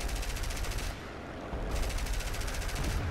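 Rapid aircraft machine-gun fire in War Thunder during a realistic battle, two long loud bursts of dense rattling separated by a short pause near the middle, with no talking.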